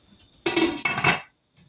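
Glass canning jars set down into a canner for apple butter, giving two close, bright clinking knocks in quick succession, then quiet.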